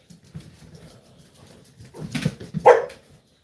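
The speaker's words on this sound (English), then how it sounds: "all the dogs are going to bark" Dogs bark in a burst of a few sharp woofs that rise in loudness toward the end, after quieter low muffled sounds, fairly close in an indoor setting.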